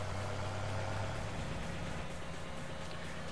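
A tractor engine in Farming Simulator 17 idles with a steady low rumble under a constant hiss, heard alone at an even level for a few seconds.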